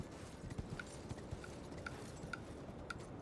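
Horse hooves clip-clop at a steady trot in Elden Ring, faint, soft thuds with a light metallic ping on some steps, set against a constant ambient background hum.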